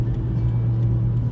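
A car being driven, with a steady low engine drone and road rumble heard close from inside the cabin, with no talking.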